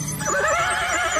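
A horse whinnies loudly and close by, a wavering neigh lasting over a second, used as a sound effect in an Indonesian radio drama as a man is lifted onto the horse.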